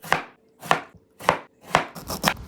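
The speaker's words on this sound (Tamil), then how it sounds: "2 ஆனியன் எடுத்துக்கோங்க, அதை இப்படி சின்ன சின்னதாக கட் பண்ணி வச்சுக்கோங்க." A knife chops onions into small pieces in five sharp, evenly spaced strikes on a board, each one a crisp, close knock that fades fast, with no voices.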